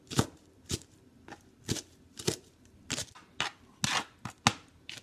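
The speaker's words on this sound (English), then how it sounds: "we're going to take these peppers and we're going to chop them up as well" A knife chops peppers on a kitchen counter in a steady run of about a dozen sharp, close taps and thuds at an uneven rhythm, with no talk.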